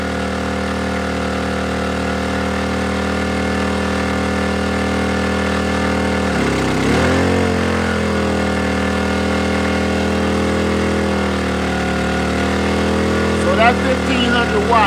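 A Powersmart 1500 watt inverter gas generator runs steadily under load, with a constant close engine hum and drone; the pitch dips and surges briefly midway as the load shifts, then settles back to an even tone.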